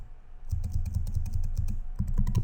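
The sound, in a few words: typing on a computer keyboard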